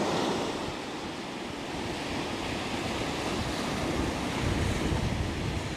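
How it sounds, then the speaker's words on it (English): Steady wind buffets the microphone on an exposed coast, rising and easing over continuous rumbling surf and waves, loud and close with no voices. "The wind is dying down from time to time and then it comes back"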